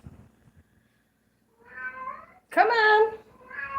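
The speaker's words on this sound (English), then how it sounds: "Uh-oh, we got a kitty cat meowing" A pet cat in an apartment gives a few close, drawn-out meows, one rising and loud, with a short spoken remark just before them.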